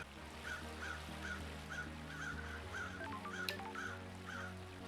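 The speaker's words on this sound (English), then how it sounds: "why are the crows going nuts?" Crows in the video game Paradise Killer caw repeatedly in a regular rhythm over a steady musical drone, clear but moderate in level.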